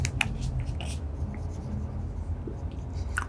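Chalk or marker scratching across a classroom board during a physics lesson, several quick strokes at the start, then quieter scribbling and a final burst.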